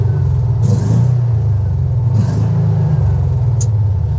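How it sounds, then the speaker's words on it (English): The engine of a 2023 John Deere XUV 560E Gator runs loud and close, a continuous low rumble that swells with two short revs. "But if we go ahead and rev it up just a little bit."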